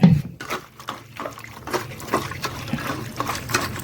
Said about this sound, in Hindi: मस्त देखो अब मैं थारी कर दे हूँ और पानी निकालता हूँ